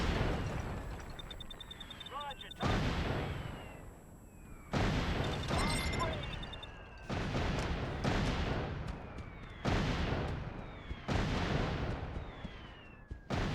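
Airstrike explosions in Mercenaries 2: World in Flames on a jeep, a run of five or six loud, booming blasts spaced every couple of seconds, each with a rolling decay, under faint scattered game sounds.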